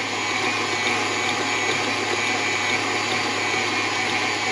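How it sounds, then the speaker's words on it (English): An electric mixer whirs steadily through fruit cake batter, a loud, even motor drone with a hiss that holds unchanged from start to finish, with no talk. "Then we mix that up until it's completely mixed."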